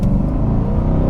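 Deep, steady rumble of a Chevrolet C8 Corvette engine and exhaust, loud and close, droning evenly with a low throbbing texture throughout the brief moment.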